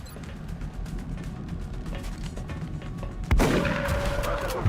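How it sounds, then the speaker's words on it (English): In the XCOM Long War video game, a shotgun fires once with a sharp crack and boom, following a few seconds of dense, crackling battle noise and a tonal ring after the blast. "let's use the shotgun"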